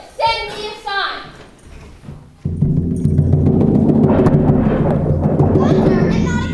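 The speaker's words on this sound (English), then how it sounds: "Thunder and not a cloud in sight." A rumbling thunder sound effect in a fifth-grade school play of The Odyssey rolls in loud and sustained after a voice, filling the room with a deep, continuous roar.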